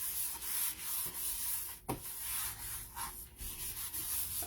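Cloth rubbing off wax over a chalk transfer on a crafting project, a steady soft rubbing and sanding texture with one sharp knock partway through, close and alone.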